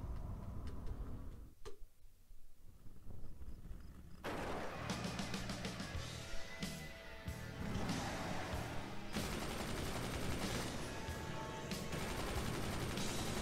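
Guns in the video game Psychonauts firing in rapid repeated bursts, a dense rattling volley that stops briefly near the start, then resumes loud and continuous over game music.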